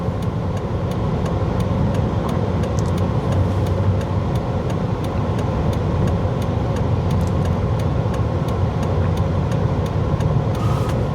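Steady road traffic in Vientiane, cars and other vehicles rolling past continuously with a constant engine and tyre roar at close to medium range, no voices over it.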